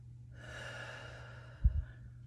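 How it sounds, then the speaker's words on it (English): A single long inhale rises softly during a group exercise class, breathy and steady for over a second, then ends in a brief low bump of breath; close and quiet, with no talking. "Breathe in."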